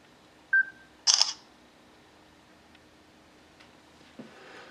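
Camera shutter sounds from a Samsung Galaxy S2 phone taking pictures: a short electronic beep, then a sharp bright shutter click about half a second later, with a faint tick after a pause, all alone in a quiet room.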